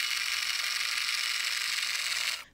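A product with a rotating motor runs normally, giving a steady, even whir with a fine mechanical buzz for about two and a half seconds before it stops abruptly.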